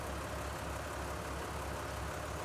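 A Ford tractor engine from Farming Simulator 19 drones steadily while driving, a dense, even mechanical rumble with a low throb that holds at constant loudness throughout and has no voices over it.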